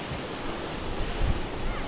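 Storm-driven Atlantic surf pounding the North Carolina shore during a hurricane swell, a dense steady roar of breaking water with wind rumble on the microphone, no voices.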